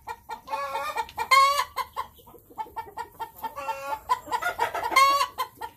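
A hen on a farm clucks repeatedly while getting ready to lay an egg, with close, loud bursts of cackling that come in uneven runs with short pauses between them.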